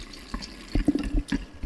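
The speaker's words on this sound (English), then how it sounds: "Now we're just going to add water to top the bottle" Water pours into a soda bottle holding strawberry juice, with irregular splashing and gurgling bursts over a soft background hiss.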